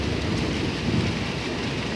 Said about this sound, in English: Thunder though.